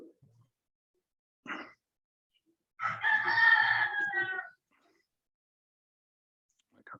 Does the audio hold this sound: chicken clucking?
yes